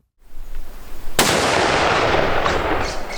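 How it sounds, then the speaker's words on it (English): One sharp rifle shot cracks loudly up close, followed by a long noisy decay of echo and rumble. "I'll fire 1 round through each."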